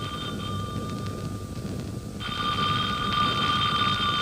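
An old-fashioned telephone bell rings in a 1940s radio drama, a steady electric trill that continues throughout, with a brief dip before it comes back louder.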